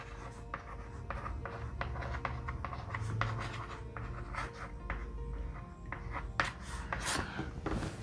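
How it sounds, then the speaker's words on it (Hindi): Marker or chalk writing on a board in quick strokes, close and fairly quiet, a series of short scratchy rubs with brief pauses and no talk. "इसको लिख देता हूं मैं सक्सेस यहां"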